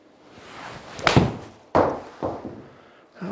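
A golf club fitted with a stiff S300 shaft strikes a ball on the heel, giving a solid thunk, followed by a couple of further dull knocks outdoors.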